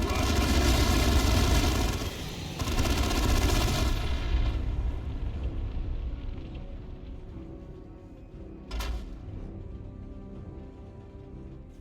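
Battlefield gunfire from the Warhammer 40k game Dawn of War II: Chaos Rising, a dense loud burst of rapid shots and impacts that cuts off, then a rumbling fade and one later sharp blast.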